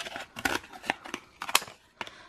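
Scissors snip through craft foam sheets for homemade stamps, several crisp close cuts in an uneven rhythm with short pauses between them.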